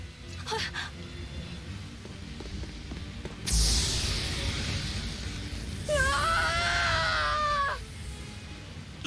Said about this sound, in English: That was a terrible scream.